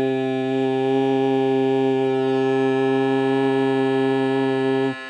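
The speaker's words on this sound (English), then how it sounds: "if I don't sing the pitch correctly," A sung tone held a little off pitch against a sustained equal-temperament C note, the two steady harmonic tones merging with an audible beating wobble, loud and close for about five seconds before cutting off.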